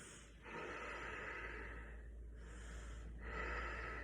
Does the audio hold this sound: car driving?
no